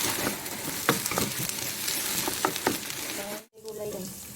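Fried rice sizzling steadily in a hot pan, with repeated scraping and clinking strokes as it is stirred, close and loud, broken by a brief pause before the frying resumes.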